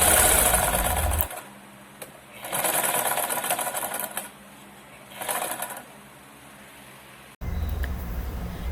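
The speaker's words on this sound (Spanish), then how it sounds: "vamos a coser las 3 piezas" Sewing machine stitching three bandana pieces together, running in three bursts of steady whirring with short pauses between them, close and alone.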